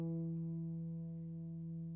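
Guitar note played with the fingertip pressed right on the fret, heard as a single sustained, quiet tone that slowly fades over two seconds, alone without talking.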